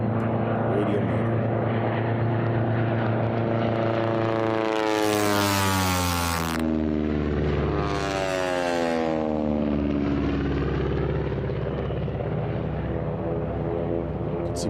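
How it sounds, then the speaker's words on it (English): T-6 racing aircraft roar past during a national championship air race, a loud sustained radial engine drone whose pitch sweeps down as the planes fly by, with an announcer's voice over it. "Let's listen to this beautiful radio motor."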